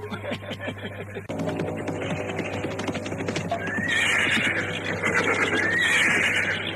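A tethered horse whinnies loudly and close in an audio drama scene, its neighs rising over steady clip-clopping hooves and a low background hum.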